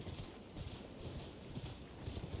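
Torrent, the goat-like spirit horse from Elden Ring, walks along with soft, rhythmic hoof clops at a steady even pace over a low ambient game backdrop, faint and unhurried.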